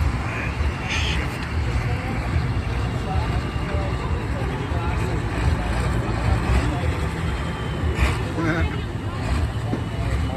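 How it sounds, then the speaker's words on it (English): A pulling tractor named Farm Boys Obsession, driven by Ron Dennison, roars down the track at the Ontario County Fair tractor pull. The engine makes a dense, loud, steady roar that never lets up, with crowd voices mixed in. "He's going to spool that tractor up, and he's going to make his run down the track."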